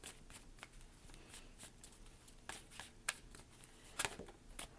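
Star Dragons oracle cards being shuffled by hand, a steady papery riffle of soft rustles with a few sharper snaps and flicks standing out near the end, close and fairly quiet with no talking.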